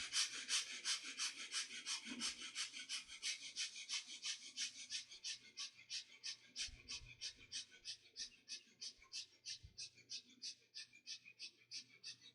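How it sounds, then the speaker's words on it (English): Quick, short, gentle chest breathing exercise, a steady rhythmic panting of soft breaths repeating about twice a second, close and quiet, with faint background sound. "starts chest breathing. Quick, short, and gentle breathing."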